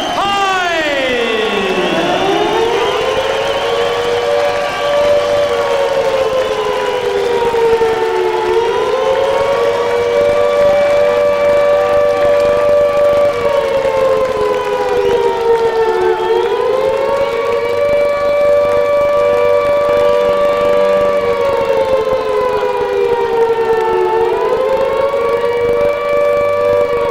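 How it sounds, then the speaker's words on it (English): Loud wailing sirens sound through a boxing arena before a WBO heavyweight title fight, a long rising and falling tone that holds steady for almost half a minute, with faint crowd noise underneath. "are those sirens sounding a warning for Hyde himself or for Klitschko?"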